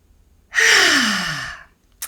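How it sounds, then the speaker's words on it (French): One deep breath is drawn in close to the microphone, a breathy, airy sound lasting about a second, heard alone in quiet surroundings. "Et vous inspirez profondément."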